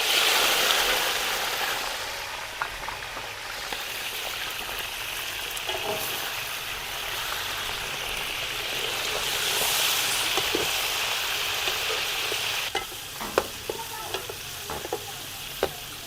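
Chicken goes into a pot of fried onions for aloo korma, giving a loud, steady sizzle and crackle that lasts throughout, with occasional sharper pops and stirring clatter and no talking.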